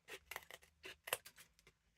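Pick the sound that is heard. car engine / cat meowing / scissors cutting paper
scissors cutting paper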